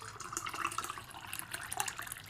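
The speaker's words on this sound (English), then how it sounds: "I was about to pour some coffee" Coffee poured into a cup on a porch in the morning, a continuous liquid trickle and splash with a few brighter drips, close and moderately loud, no voices.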